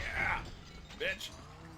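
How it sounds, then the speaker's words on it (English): A weapon reloading in a video game, held like a shotgun: short mechanical clacks and a ratcheting click, with a second metallic clack a moment later over steady background hiss. "Reload always takes too long."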